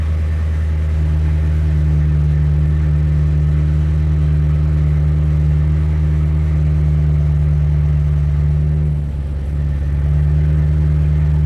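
A BMW N62 V8 engine idles steadily after a coolant transfer pipe repair, a loud, close, continuous low rumble with an even tone and a brief slight dip near the end, no voices.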